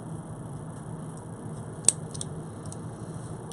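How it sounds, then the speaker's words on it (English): A single crisp snip of scissors cutting the stringing material of a bead strand, brief and close against a quiet background. "I will actually cut the stringy material it's on right now"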